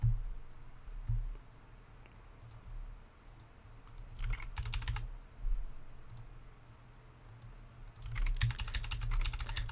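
Bursts of typing on a computer keyboard while entering a terminal command, quick clusters of light key clicks separated by pauses, near and fairly quiet over a low hum.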